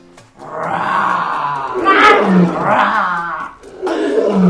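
A voice imitates a lion's roar, one long growling, rising-and-falling roar followed by another burst, loud and close.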